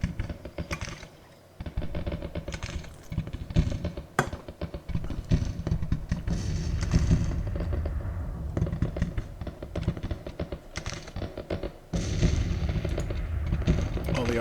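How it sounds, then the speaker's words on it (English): Artillery fire in the Civil War strategy game Grand Tactician: Civil War, with rapid overlapping cannon booms and crackling battle noise, dense and continuous apart from a brief lull near the start. "The artillery is banging away nicely."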